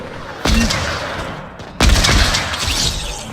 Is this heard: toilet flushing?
no